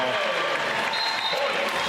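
A volleyball crowd in a college arena roars after a big swing in a match, a dense sustained cheer that carries under the voice of a commentator.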